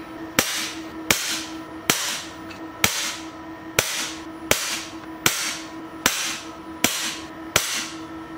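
A .22 (5.5mm) air rifle firing pellets, ten sharp, crisp shots at an even rhythm with roughly a second between them, each with a brief ringing tail, close and alone.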